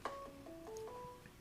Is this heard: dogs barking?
no